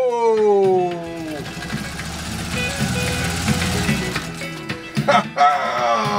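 A Singer 201-2 sewing machine stitches through leather snakeskin with a fast, steady mechanical whir, following a spoken voice at the start and ending with a few clicks as stitching stops.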